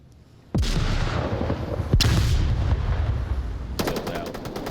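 Gunfire in a virtual-reality tactical shooter game: a loud shot, a second sharp crack, then a rapid automatic burst near the end, all over steady, dense game noise.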